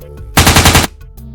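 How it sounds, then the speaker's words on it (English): An autogun sound effect from a Necromunda tabletop battle fires a single rapid, loud automatic burst of about half a second, then cuts off. "sprays his autogun at Wild Bill"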